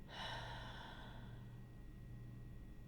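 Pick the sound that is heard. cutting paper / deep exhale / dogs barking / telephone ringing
deep exhale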